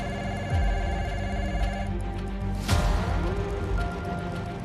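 Telephone ringing for a call between Henry Kissinger and Alexander Haig, a soft electronic ring tone repeating in short bursts over a low hum, with a louder sweep midway.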